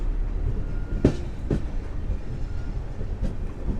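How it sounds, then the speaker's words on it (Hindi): A Tanakpur Daurai Express train departs Madar Junction with a steady rumble and a few loud clanks of railcars and wheels, fairly close, with no voices. "हमारी टनकपुर दौराई एक्सप्रेस निकल रही है मदार जंक्शन से।"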